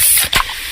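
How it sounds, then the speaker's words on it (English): A freshly opened fizzy Pepsi releases a sharp, close hiss and spray of carbonation, with a brief pop in the middle of the short burst. "that's the sound of a freshly opened fizz-filled Pepsi"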